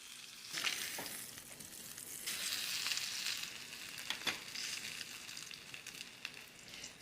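A ribeye steak sears in a hot pan, giving a steady, moderately loud sizzle and crackle with a few sharper pops throughout and no voices.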